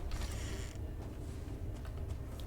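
In the Valheim game, a wooden door creaks open with a short, drawn-out strained creak followed by faint mechanical clicks and knocks at moderate loudness.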